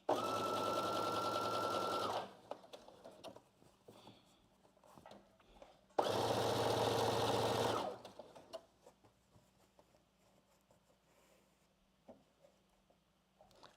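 Sewing machine stitching a sleeve seam on a basic dress: two close bursts of rapid, steady stitching, each about two seconds long, with quiet handling and faint rustling in the pause between them.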